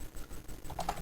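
Typing on a computer keyboard while entering network commands, a run of close, uneven key clicks with a couple of sharper taps near the end.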